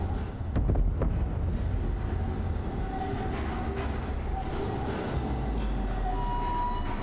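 Rumbling rail noise of a tram rolling along in a video game, a steady low clatter with faint wheel squeal and a brief louder bump near the start, no talking.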